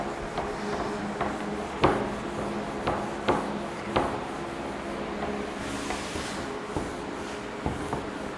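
A board eraser rubs out writing in a series of scraping strokes with sharp knocks spaced irregularly, nearby, over a faint room hum.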